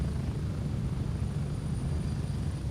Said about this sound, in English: I just don't want to hear the fucking chopper at full volume at all times.